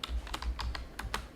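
Fast typing on a computer keyboard while entering database records, a quick run of sharp, close key clicks in an irregular rhythm with no voices.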